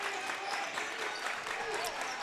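Crowd at a boys high school basketball section semifinal roaring after an alley-oop dunk, a dense, steady wash of cheering and applause filling the gym, with no single voice standing out.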